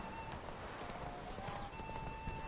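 Horse hooves clip-clopping at a gallop in The Witcher 3: Wild Hunt during a race, a steady busy rhythm of hoofbeats over constant game ambience, with a faint whinny.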